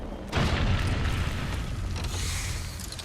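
Care package dropping in the video game Apex Legends, landing with a deep boom that sets off a loud, sustained rumble lasting a few seconds.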